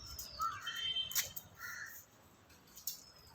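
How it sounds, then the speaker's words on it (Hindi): Crows caw near a rooftop, several sharp calls close by in the first half and one more near the end over a quiet background. "Birds came."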